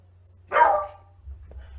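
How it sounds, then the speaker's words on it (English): A single dog bark rings out clearly near the middle, close and fairly loud, set against a quiet low hum, followed by a fainter short sound shortly after. "the dog's barking because neighbors are talking out there"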